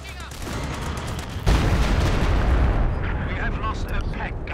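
An AVRE demolition projectile lands and explodes in the video game Company of Heroes 2, a loud close blast erupting after a brief approaching rumble and rolling on with debris and battle noise.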